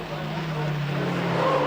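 Rallycross cars race at a 1994 European Rallycross Championship round in Ireland, a sustained engine drone with a steady low tone under braking into a hairpin, heard at moderate distance beneath commentary.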